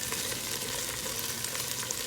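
Onions frying in a pan for the Jordanian dish mjadra hamra, giving a dense, continuous sizzle and crackle at steady loudness throughout, close up and with no talking.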